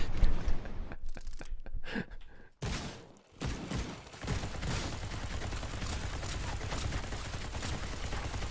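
Rapid video-game gunfire rattles in dense bursts, broken by brief gaps of near-silence early on, then a sustained close volley of shots continues to the end.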